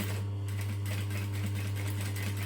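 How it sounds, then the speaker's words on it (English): A sewing machine runs steadily, stitching curtain-style lining fabric for a Stella garment with pre-tacked pockets; a continuous close motor hum with a rapid needle rhythm, no talking. "Now, as I'm stitching"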